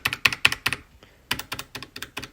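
Crisp, rapid key presses on a mechanical keyboard, some keys fitted with rubber keycap rings. Two close, steady bursts of clacking are separated by a brief pause, with no voices.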